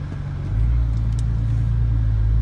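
Nissan GT-R R35 driving along with a steady low engine rumble that swells slightly after the first half second, then holds a constant loud drone with no talk.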